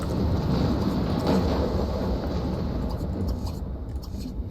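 A thunderstorm in The Sims 2 video game: a dense, steady low rumble of thunder with a wash of rain, loud and continuous, easing slightly toward the end.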